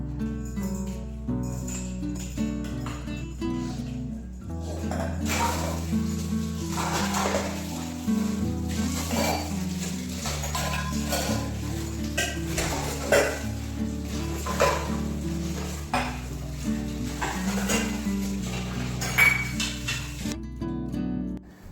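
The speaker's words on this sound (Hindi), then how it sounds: "रोटियां बनने के बाद जो चौकी बेलन है उन्हें हाथों हाथ धुल देते हैं" Dishes, a rolling board and a rolling pin are washed by hand at a kitchen sink, with repeated clinks and scrubbing clatter, running water, and steady music playing throughout.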